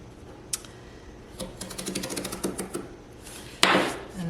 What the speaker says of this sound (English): just gently draw your X-Acto knife across it